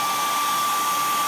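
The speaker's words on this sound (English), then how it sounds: "you can take a hot air dryer and just feel for it a bit, wait until it's hot" Hot air dryer blowing steadily on minoxidil, a continuous close, even whoosh of rushing air with a faint steady whine, alone with no talking.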